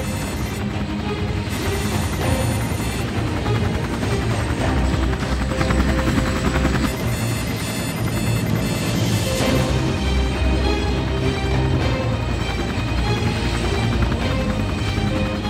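A failing aircraft engine roars loudly and continuously during an emergency landing, a dense droning rumble with shifting pitch that fills the whole stretch without speech.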